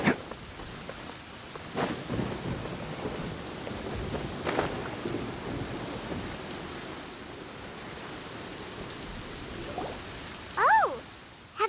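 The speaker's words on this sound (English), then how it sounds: "Where is the storm headed?" Steady rain and distant rolling thunder in a Genshin Impact storm, a continuous hiss with a few low rumbles and a brief rising effect near the end.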